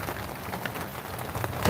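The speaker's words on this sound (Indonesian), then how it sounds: "Iya hujan terus ini." Steady rain hisses down outdoors during a rainy season, a dense, even wash with scattered louder drops and no voices.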